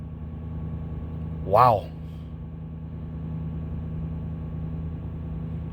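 A 2019 Chevrolet Silverado 2500 truck engine running at fast idle, a steady low hum that holds throughout, broken once by a short spoken exclamation.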